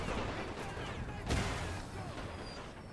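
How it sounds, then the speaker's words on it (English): Artillery fire in The Great War 6.0, a WWI strategy video game, heard as a steady rumbling barrage with one heavier boom partway through, at a constant moderate level. "I'm gonna now move the artillery to actually counter-fire on the enemy artillery instead."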